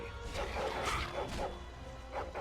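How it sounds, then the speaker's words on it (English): Hostile dogs barking in Dragon Age Origins during a fight at Redcliffe Castle: repeated rough barks and yelps at an uneven rhythm over steady battle noise, fairly close, with no talking. "These are not friendly dogs"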